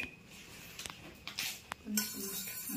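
A knife cutting something on a hard surface, heard as a few faint clicks and clinks spaced unevenly, close by under a soft background.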